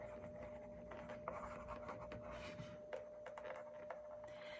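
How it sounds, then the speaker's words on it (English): Pen strokes scratching across the surface of a puzzle box, soft and close, with continuous light rubbing and occasional small taps under a steady background hum. "I'm just gonna write"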